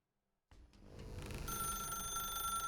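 A telephone rings in the video game The Stanley Parable, starting abruptly after a half-second of silence and settling into a steady, continuous electronic ring.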